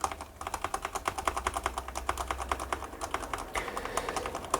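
Rapid tapping on a computer keyboard during a Windows 11 installation on a newly built PC, steady close clicks in a quick irregular rhythm for several seconds, with a low hum underneath and no talking.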